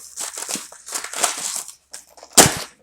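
Cardboard of an Auchan Bio infusion box crinkles and crunches as it is pierced and pried open, with a run of close, scratchy crumpling bursts ending in one sharp, louder tear.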